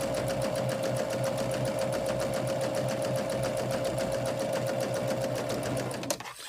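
A sewing machine runs steadily with a fast, even stitching rhythm while fabric is chain pieced, pulled back by the feed dogs, then the motor stops abruptly near the end.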